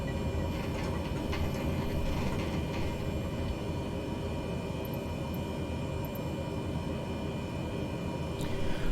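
A Cessna turboprop taxis in Microsoft Flight Simulator, its engine a steady, even hum with a low rumble underneath, holding constant from start to finish with no talk.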